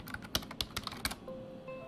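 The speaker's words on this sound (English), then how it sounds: "type trial list and hit enter" Fingers tapping on a computer keyboard, a quick irregular patter of crisp keystrokes heard up close and clear for about a second before a faint electronic tone takes over.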